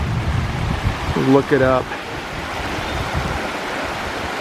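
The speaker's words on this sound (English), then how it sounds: "So these are the headwaters of the Thornton River coming down." A small mountain creek at the headwaters of the Thornton River in Shenandoah National Park rushes steadily and close by, with someone speaking briefly over the flowing water.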